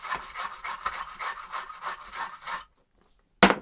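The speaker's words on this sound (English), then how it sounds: "So quick scrub of the pins, and you can also give the socket a bit of a scrub too." Pins of a Commodore 64 chip are scrubbed with 99% alcohol, giving a steady, close rasping rub in quick repeated strokes for a few seconds, followed by a pause and one short scrape.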